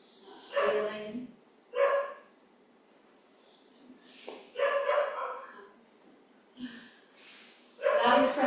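Several short bursts of dog barking and yips, fairly close, separated by quiet gaps, with a voice talking in between.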